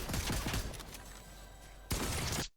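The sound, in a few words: gunshot from Fortnite video game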